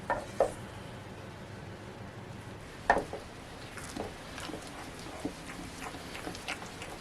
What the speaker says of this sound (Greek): Και ανακατεύουμε να ενσωματωθούν τα υλικά.